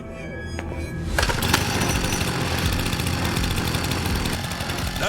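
A chainsaw in the video game Lost Judgment roars to life and revs steadily, a loud continuous buzzing engine drone that holds for several seconds after a brief quieter start.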